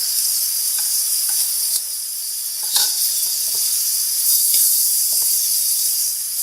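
Eggplant frying in a pan with red chili powder and salt, a bright steady hiss and sizzle broken by a few faint clicks and stirring scrapes, no voices.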